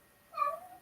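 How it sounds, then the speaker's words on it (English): A house cat meows once in the background, a short tonal cry, moderately faint and heard alone with no talking. "the cat in the background that's meowing"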